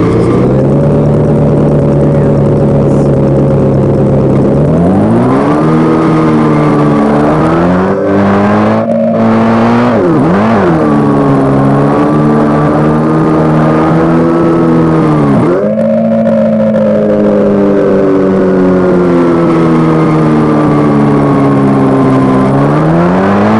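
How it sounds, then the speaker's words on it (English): Car driven with arrow keys in a game design project's game view, a loud synthetic engine tone that rises and falls in pitch as it revs, with a few sudden dips and shifts, continuous and alone. "you can go to the game view here, and use your arrow keys and drive the car"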